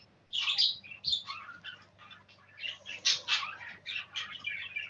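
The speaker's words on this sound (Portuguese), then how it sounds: "Passarinho cantando aí." Small birds chirp and twitter in a lively, continuous burst of high calls at close to moderate range, with a faint low hum running underneath.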